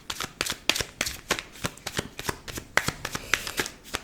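A deck of cards is shuffled and cut by hand, giving quick rhythmic riffles and slaps that run steadily for several seconds, close and fairly loud with no talking.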